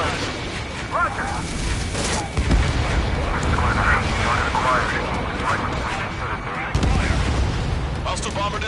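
Aircraft cannon fire and explosions rumble through an Ace Combat 7 air battle over Stonehenge, continuous booming and crackling under steady radio chatter from voices speaking throughout.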